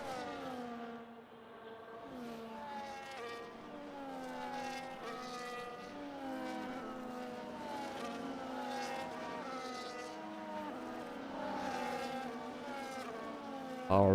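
Race cars on the formation lap of a sim-racing Abu Dhabi Grand Prix sprint race, several engine notes weaving and sweeping up and down together in a steady, moderately distant drone, with no voices.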